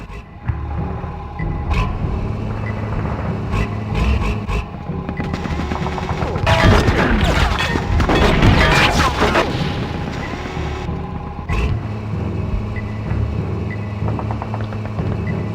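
A tank firing in the video game Conker's Bad Fur Day, loud booming blasts and rapid gunfire swelling into a dense barrage midway, then easing back to rumbling engine and scattered shots.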